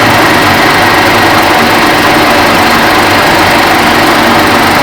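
A metal lathe cutting in a workshop gives off a steady, loud, unbroken mechanical roar with no pauses, close to the listener and alone without talk.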